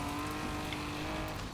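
Lotus car in Forza Horizon 4, built for mountain rally, driving with a steady, dense engine drone that stays loud and unbroken throughout, with a hint of tire noise.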